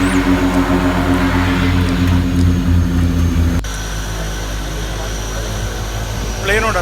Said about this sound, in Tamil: பிளேன் இறங்கியாச்சு.